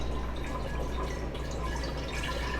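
Phytoplankton culture, harvested the night before and chilled in a refrigerator, pours into a jar in a steady, continuous trickle of liquid with light dripping texture, close and moderately quiet throughout.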